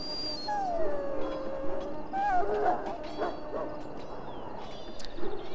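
A dog whines and whimpers in Dragon Age: Origins, a drawn-out, wavering high whine followed by shorter yelps and whimpers over a steady game background hum.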